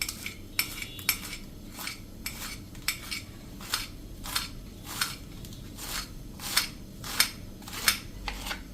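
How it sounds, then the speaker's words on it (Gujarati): A knife chops through a bunch of fresh spinach on a board, steady sharp taps repeating roughly every half second, close and clear with no talking. "હવે જે આપણે આ પાલક લીધી છે ને એક બંચ, એને આપણે આ રીતે સમારી લેશું"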